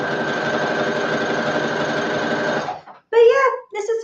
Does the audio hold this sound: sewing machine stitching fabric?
yes